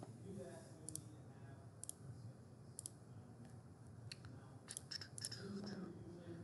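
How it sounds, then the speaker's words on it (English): Rapid computer mouse clicks sound while properties are added in SolidWorks software, sharp little ticks in scattered bursts and quick pairs, close and faint over a low murmur of background voice. "please pardon all the rapid clicking"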